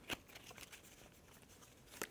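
Cards from the Stellarion board game are shuffled by hand on a table, producing faint, close riffling and sliding with a couple of crisp snaps at the start and end.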